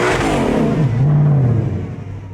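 A 2020 Ford Shelby GT500 engine revs hard and holds a loud, sustained roar during a line-lock burnout as the rear wheels break free, with the pitch rising and then easing under a constant rushing noise.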